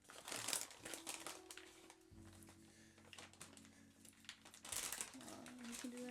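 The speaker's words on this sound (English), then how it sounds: "I want to start with opening the heater bags" Someone tears open a plastic heater bag at its tear notches, with bursts of crinkling and crumpling plastic up close and some handling noise in between.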